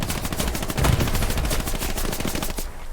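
Sustained automatic machine gun fire in the WWII shooter Hell Let Loose during a competitive match, rapid continuous bursts filling the whole stretch, loud and close, with a heavier thump near the middle.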